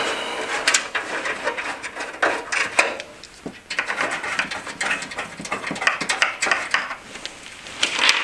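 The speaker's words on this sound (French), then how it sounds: "Pour cela, on retire les vis à main." Hand-turned thumbscrews come off a CFI Diablo XT PC case with close, squeaky scraping rubs. The bursts repeat loudly and stand alone, with no voices.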